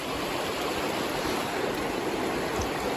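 Donut Falls pours in a steady, full roar of rushing water, loud and close, unbroken and without voices.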